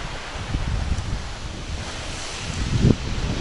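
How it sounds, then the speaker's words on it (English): Waterfall tumbling off basalt columns near the Burg: a steady, close rushing wash of falling water mixed with wind buffeting the microphone, with no talk. "You can see the water is actually falling onto and just cascading off these beautiful columns."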